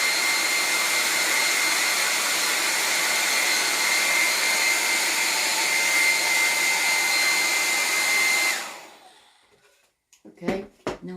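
Hair dryer blowing a steady loud roar for about eight seconds while drying chalk paint on a wood surface, then clicking off and winding down, followed by a few faint handling sounds.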